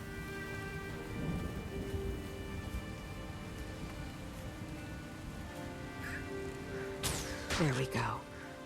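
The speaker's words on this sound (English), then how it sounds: "The winds are picking up. The storm nears even more." Stormy weather in Guild Wars 2: a faint steady wash of rain with low thunder rumbling underneath, and a voice speaking over it, with brief sharper bursts near the end.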